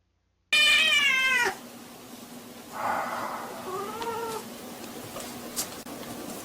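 A cat meows and cries through the night, one long loud wavering yowl followed by a quieter drawn-out meow, over a steady low hum.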